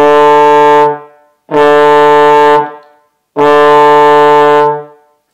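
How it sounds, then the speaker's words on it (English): Trombone playing three separate tongued D notes, each sustained about a second with a clean, crisp attack, separated by short silences; loud, close and solo. "We're going to use the tongue 3 times in a row."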